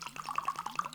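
Spring water is poured out in a quick, rhythmic run of close glugs and splashes, with no talk.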